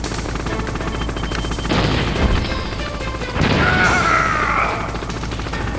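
Gunfire and explosions from the video game Metal Gear Solid, with dense noisy bursts and two louder blasts midway, plus a whining tone near the end, all fairly loud and continuous with no talking.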